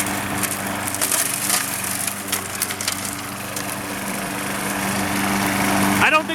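A Craftsman 6.75hp lawnmower drones steadily while cutting a suburban lawn, its engine hum constant and close with crackling of grass and debris underneath.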